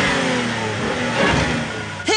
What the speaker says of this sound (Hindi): तुम अपना इंजन बंद करो